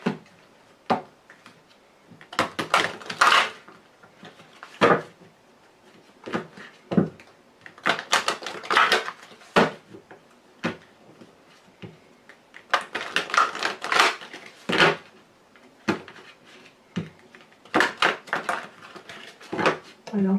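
A deck of Lenormand fortune-telling cards is shuffled and cut close up, with crisp clusters of riffling and tapping card sounds in irregular bursts, while someone talks between them.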